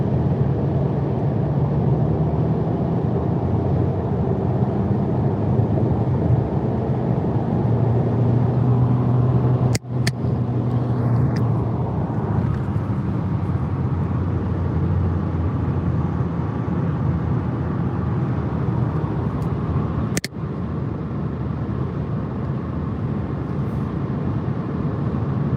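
A car cruising on a countryside highway during a road trip from Montgomery, Alabama to Jacksonville, Florida, heard as a steady, smooth cabin rumble and road roar throughout, with a couple of brief clicks and no talking.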